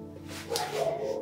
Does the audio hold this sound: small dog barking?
yes